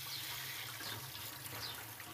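Water runs steadily from an RO water purifier tap in a home kitchen, a continuous soft hiss and trickle close by with no talking.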